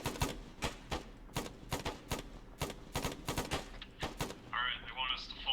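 Rapid bursts of gunfire crack out in a steady string of sharp shots during an ARMA 3 squad firefight, fairly close and loud, with a brief burst of radio chatter near the end.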